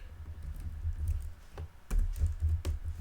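Close, brisk typing on a computer keyboard, with uneven clusters of clicks and taps and short pauses between bursts. No voices.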